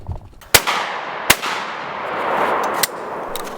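Shotgun blasts at a driven pheasant and woodcock shoot in Denmark: three sharp, loud reports spaced about a second apart, each trailing off into an open-air echo.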